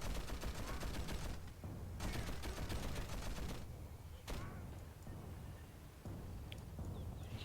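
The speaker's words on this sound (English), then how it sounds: "I hear several howitzer positions bombarding various areas of Calvin's base." Howitzer artillery positions bombarding a base in the real-time strategy game Rise of the Reds, a dense, continuous barrage of overlapping booms and crackling gunfire, loud and unbroken with no voices.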